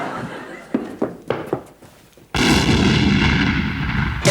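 A bomb goes off in a French TV sitcom: a few soft knocks and thumps, then a sudden loud, roaring blast that holds steady to the end.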